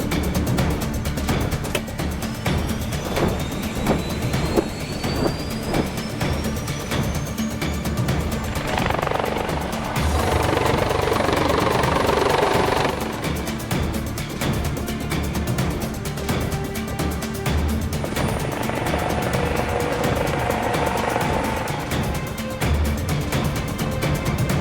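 Air ambulance helicopter carrying an injured motorcyclist to hospital, its rotor chop loud and steady throughout, swelling in intensity midway, with faint voices underneath at times.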